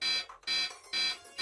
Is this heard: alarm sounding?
yes